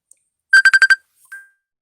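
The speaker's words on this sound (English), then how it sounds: "I had a phone call come in" A phone ringtone from an incoming call sounds as five quick, evenly spaced electronic tones in a rapid burst, followed by one softer, fading tone, loud and clear against silence.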